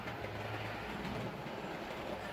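A model train with passenger coaches runs past on a layout, giving a faint, steady rumble with a soft rhythmic clatter of wheels and no voices.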